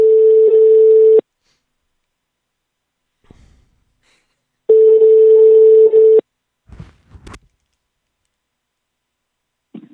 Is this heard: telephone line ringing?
yes